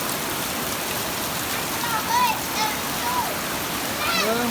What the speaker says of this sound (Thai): It is raining.